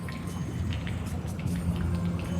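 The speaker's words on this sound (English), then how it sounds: "it's draining from one chamber into the one I'm standing in" Water rising and draining between chambers of a temple in the video game Star Fox Adventures, a continuous low churning gurgle with light splashy patter, steady and fairly close.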